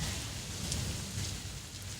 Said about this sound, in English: Nope, just lots of rain.